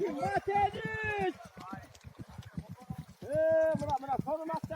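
Hooves of racing horses at full gallop, a fast, rhythmic thudding that runs beneath nearly constant energetic commentary from a man.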